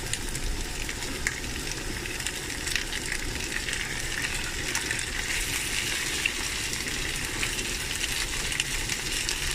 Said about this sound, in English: This is the perfect time for us to add our potatoes now.